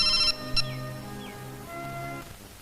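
A mobile phone ringing as a call is placed, a repeated electronic ring tone in short tonal bursts with a gap, fairly clear against a quiet room.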